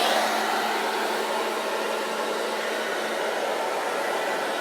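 A hair dryer fitted with a diffuser blows on curly hair, a steady loud roaring whoosh that holds unbroken from start to finish, close by and alone.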